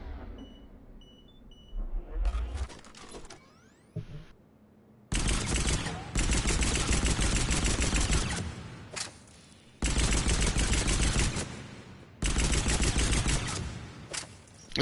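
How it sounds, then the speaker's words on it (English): Pistol shots in Mass Effect 3 ring out in long dense volleys, loud and close, broken by short pauses and a few electronic beeps. "This is a pretty good pistol."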